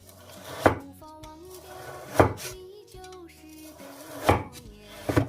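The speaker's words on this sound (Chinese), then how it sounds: "然后我们再准备5毛钱的五花肉，把皮给它去掉，先给它切成薄薄的厚片" A kitchen knife slices skinless pork belly into thin pieces on a cutting board: four firm, spaced thuds up close, with light background music between the cuts.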